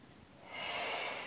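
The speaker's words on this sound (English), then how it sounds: "Inhale and exhale." A single breath during a Pilates workout with a foam roller, starting as a faint soft draw of air and swelling into a louder, airy, close exhale.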